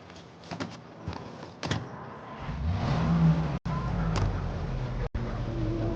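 A car driving in the Mafia video game, its engine revving and accelerating at moderate loudness with a few door-like clunks and brief cuts, faint voices now and then.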